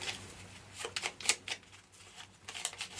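A deck of Lord of the Rings: Journeys in Middle-Earth damage cards being shuffled up close, a quiet run of quick riffling clicks and flutters in short uneven bursts.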